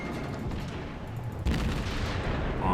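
Cruiser guns of the Aoba firing during a World of Warships naval battle, a steady rumbling roar of heavy gunfire with a louder burst midway, dense and continuous without any speech.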